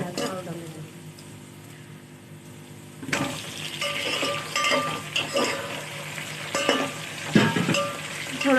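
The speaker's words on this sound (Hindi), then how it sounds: "थोड़ा सा हमें आलू के साथ प्याज को और पकाना है।" Onions and potatoes frying in a pan for chicken white pulao, quiet at first, then a sudden loud sizzle with stirring clinks and scrapes, a voice speaking briefly over it.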